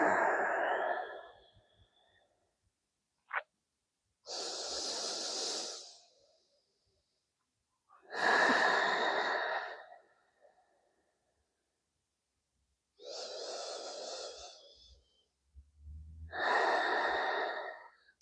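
Slow, deep breaths during a stretching hold, each long inhale and exhale heard up close and alone, separated by quiet pauses.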